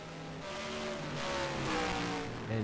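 A race car in a racing video game lapping Willow Springs on a timed qualifying run, its engine note rising and falling through gears, moderately quiet and continuous.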